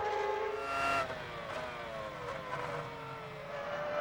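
A Williams BMW Formula 1 car engine in the F1 2000 racing game drones with a steady, slightly wavering tone that falls in pitch as it winds down, with no talking.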